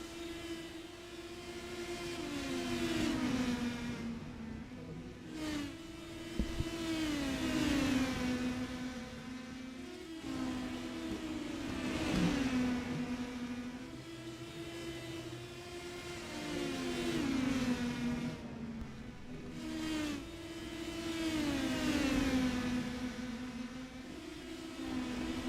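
Several race car engines from the iRacing TNT Shock Series at Five Flags Speedway drone steadily and rise and fall as the cars work through lap traffic in a sim race. The engine note swells in repeated waves with no talk over it.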